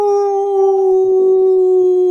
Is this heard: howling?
yes